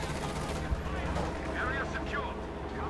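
Artillery fire and a Panzer IV tank shooting from a distance in a Company of Heroes 2 battle, with dense, continuous rumbling gunfire and a sharp thump, loud and steady throughout.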